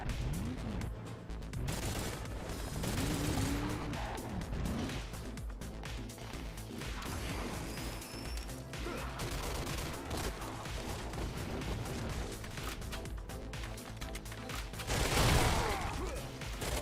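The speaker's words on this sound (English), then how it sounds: "there was a Gatling gun" Rapid gunfire in the PlayStation 3 shooter Crash Commando, a steady rattling burst that runs through the whole stretch with crashes and mechanical clatter, flaring louder near the end.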